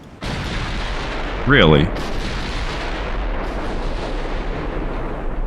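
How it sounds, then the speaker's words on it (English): Naval gunfire from battleships in the Ultimate Admiral Dreadnoughts game, heard as a steady rumbling barrage of distant cannon booms that swells into a louder burst while someone briefly speaks over it. "Wait, you guys are already shooting?"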